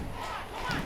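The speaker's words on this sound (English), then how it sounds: "They're doing the big K-Dub cheer." Kentwood student section chanting the K-Dub cheer on homecoming night at a high school football game against Tahoma, a loud massed crowd chant swelling near the end of the short burst.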